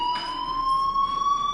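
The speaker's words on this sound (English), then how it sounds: "do you hear that fire alarm?" A fire alarm in the video game Life is Strange rings steadily for a moment: a continuous high electronic tone with harmonics, holding level and loud throughout, with no voices.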